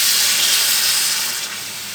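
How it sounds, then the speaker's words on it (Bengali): Water poured steadily into a pot of sautéed mung dal and vegetables for sago khichuri, a close, continuous hissing splash that eases slightly toward the end, with no talking. "এবার আমি এর মধ্যে দিয়ে দেবো পরিমাণ মতো জল"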